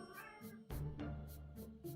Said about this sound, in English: surrounded by cats right now